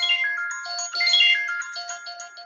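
A cellphone ringtone plays alone at a steady moderate level, a bright melodic electronic tune of repeating tones that runs unbroken for a couple of seconds, heard at the start of a live Monday morning online gathering.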